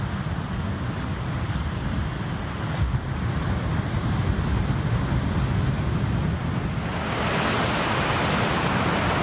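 Ocean waves rolling onto the shore at Rainbow Haven, Nova Scotia, at sunrise: a steady, loud wash of surf mixed with wind buffeting the microphone, swelling stronger toward the end, with no talk.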